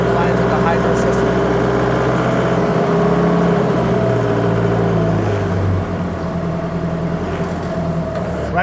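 Diesel engine of an Octane FD25BCS 5,500 lb forklift revving, a loud steady droning rumble whose pitch holds and then dips slightly as the revs settle, running continuously and close.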